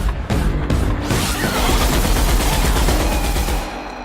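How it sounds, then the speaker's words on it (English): A modified heavy machine gun in the video game The Outer Worlds fires a loud, sustained burst of rapid shots that runs for several seconds before tapering off. "the weapon we're using is a heavy machine gun that's actually been modified using our engineering skill"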